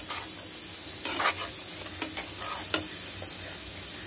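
Sweet prawn and potato curry sizzles steadily in a pan while a utensil scrapes and stirs through it in a few distinct strokes, close and continuous, with no talking.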